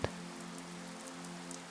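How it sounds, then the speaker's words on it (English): Rain patters steadily outside a lake cabin, a soft, even wash of drops with no clear individual hits, continuous and fairly quiet throughout. "the rain outside continues with its endless rhythmic patter"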